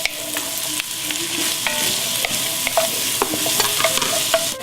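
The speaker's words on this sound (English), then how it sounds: "Alright, now we're adding the beef" Beef, three-quarters of a pound, sizzles in a hot pan with carrots and celery, a loud steady frying hiss broken by repeated clinks and scrapes of a spoon stirring.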